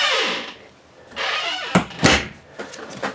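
The exterior door of a 2024 InTech SOL Rover Dusk trailer is worked: two soft swishes of movement, then sharp close clunks and a latch rattle, followed by lighter knocks, close by and with no talk.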